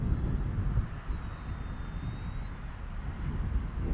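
A Volantex PhoenixS 742-7 RC glider plane hums steadily overhead while doing mild aerobatics at a slope and field, its electric motor whine drifting in pitch over continuous wind rumble, no talking.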